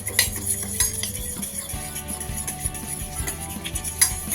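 Eggs and milk get mixed in a bowl for an omelette, a busy run of metal utensil clinks and scrapes against the dish with irregular sharper knocks, no talking over it.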